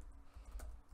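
Quick bursts of typing on a computer keyboard while entering NBA starting-lineup answers in an online quiz, close and fairly quiet, with no talking.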